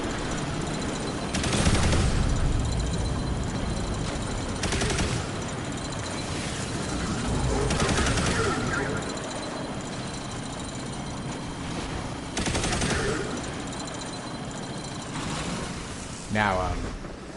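Heir Apparent machine gun in Destiny 2 firing in sustained bursts with dense rattling, heavy gameplay effects and rumble throughout, under and between someone talking.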